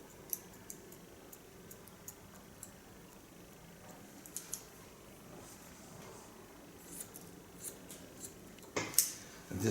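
Scissors snip hair during a haircut, sparse crisp close clicks at irregular intervals, growing busier and louder toward the end against a quiet room.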